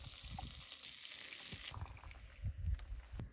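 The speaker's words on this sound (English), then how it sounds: "I'm just going to throw a tiny pat of butter in there." Butter sizzling and frying in a hot pan at a desert campsite in Southern Utah, a steady hiss with a few soft clinks and bumps near the end.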